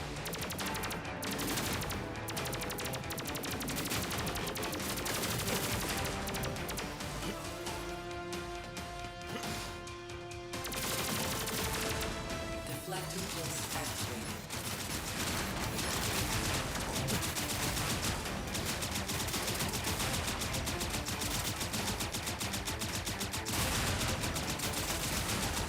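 Constant rapid gunfire from the Terminator 2D: No Fate video game rattles on in dense bursts with crashes and explosions, loud and unbroken over a driving game soundtrack.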